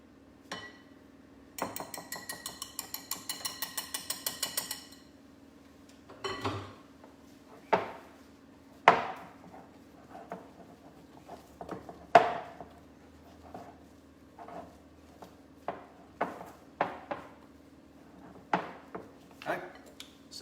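A spatula mixes a paste in a bowl during dessert making, producing a rapid series of scraping taps followed by scattered clinks and knocks against the bowl, fairly close with quiet gaps between.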